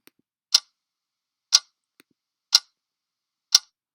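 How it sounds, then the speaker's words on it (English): A clock ticking sound effect: four crisp, evenly spaced ticks about one second apart, close and clear against silence. "So clocks is another sound effect that I found in my own packet, clock ticking."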